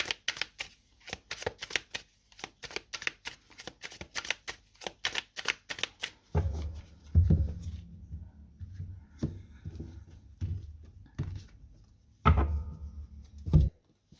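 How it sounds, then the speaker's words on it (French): Small cards from a Chinese-style tarot deck are laid down one by one in a rapid, even run of crisp slaps, followed by slower, heavier taps and thuds on a table, with no talking. "on va aller poser chaque carte"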